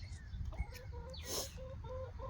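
Several chickens cluck in a homestead coop, short repeated clucks and calls overlapping in a steady close chorus, with a louder squawk near the middle.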